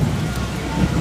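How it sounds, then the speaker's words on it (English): Thunder rumbles low and close through steady heavy rain during a rainstorm, one brief dense burst of sound. "That's thunder."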